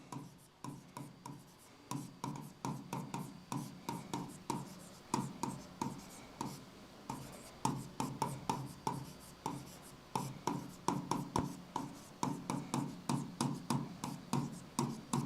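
Chalk or marker strokes on a classroom board, a steady run of short scratchy taps and squeaks close by, each stroke distinct, continuing without talk.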